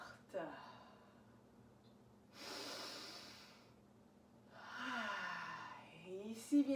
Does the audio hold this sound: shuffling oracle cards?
no